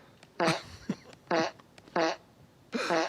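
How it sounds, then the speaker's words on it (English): Four loud, close fart bursts, each short and buzzy, repeating at roughly even intervals with faint room noise between them; no talk is heard. "He's farting."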